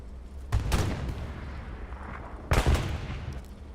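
Bombing run explosions in the Hell Let Loose battle game on Omaha Beach, two heavy booming blasts about two seconds apart with rumbling tails over a steady battlefield din.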